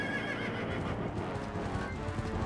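A horse gallops and neighs in Zelda: Twilight Princess HD, with steady clip-clop hoofbeats and a whinny over a dense, busy game soundscape at moderate level, and no one talking.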